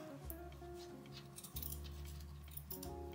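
Scissors snip through a recycled envelope decorated in shabby-chic style, a few light crisp cuts close by over a steady low background hum.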